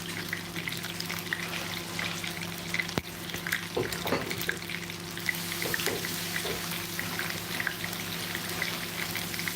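Tap water running steadily while rice is being washed in a kitchen, a soft continuous hiss and splash with faint clinks and stirring sounds, fairly quiet and without talk.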